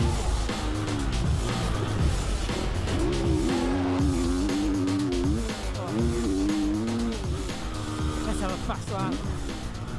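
A four-stroke MC250F motocross bike rides a dirt track, its engine note rising and falling through gear changes with a steady, loud drone and rough throttle bursts, under a voice talking over it.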